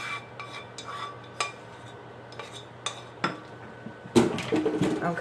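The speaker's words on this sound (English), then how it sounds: "Okay, I'm just going to spread this out in the pan." A utensil scrapes and taps against a pan as food is spread out, making a handful of sharp metallic clinks over a scratchy rasp, with a louder burst of clatter near the end.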